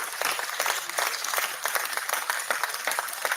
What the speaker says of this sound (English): Clapping noises. Clapping noises.